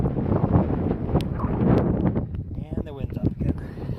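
Wind gusts across an Appalachian Trail mountain ridge on a hike, a broad rushing roar buffeting the microphone steadily, with someone talking over it partway through.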